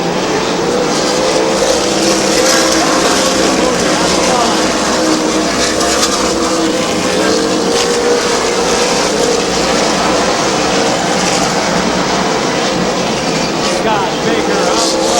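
Race cars roaring around the oval at Midvale Speedway, a loud continuous engine drone with rising and falling pitch as cars pass, under steady commentary from an announcer.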